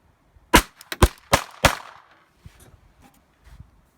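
Glock 42 pistol firing .380 rounds outdoors: four sharp, loud shots in quick succession, then faint clicks and small handling noises as the fire stops, with no speech.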